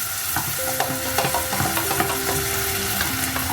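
Crushed tomatoes and tomato pulp hitting golden onions frying in plenty of olive oil for a sweet potato curry, giving a loud, steady close-up sizzle with stirring scrapes throughout.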